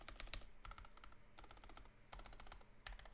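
Computer keyboard being tested with quick clusters of clacking keystrokes in rapid bursts separated by short pauses, close but fairly quiet over a low hum.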